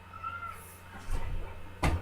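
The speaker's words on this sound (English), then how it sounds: "Now it's playing with the cat" A cat gives a brief meow, a short faint call followed by a louder thump-like burst near the end.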